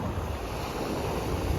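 Ocean waves wash ashore at Savannah beach while a breeze blows, a steady close rush of surf and wind noise with no speech.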